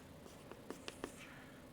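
Chalk or marker taps and strokes on a lecture-hall board, a faint run of five or six quick marks in an otherwise quiet room.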